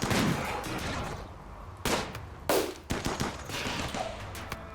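Rapid gunfire from RimWorld colonists shooting at a creature, with dense, loud bursts of shots in an irregular rhythm and several sharp, heavy reports standing out.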